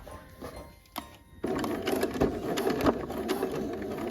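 A sewing machine fitted with a twin needle stitches pajama fabric, starting abruptly after a quiet moment and then running steadily and fairly close with a continuous mechanical whir.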